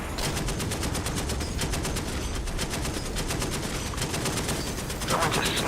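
Heavy automatic gunfire in the DCS World combat game, rapid bursts of machine-gun shots repeating in a dense, loud barrage for several seconds with radio-style talk faintly mixed in.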